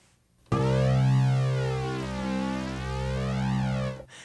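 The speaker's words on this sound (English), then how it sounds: "That's the low E string on my toy guitar that I put distortion on, and I made a little sample." A distorted low E string sample from a toy guitar plays as one sustained, buzzing tone with rich stacked harmonics and a wavering sweep, starting abruptly and fading out after about three and a half seconds.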